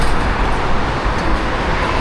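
Ambience at Yenibosna, a busy central transit station in Istanbul served by metro, metrobus and buses: a steady, loud low rumble of passing vehicles and trains with general background noise and no clear voices.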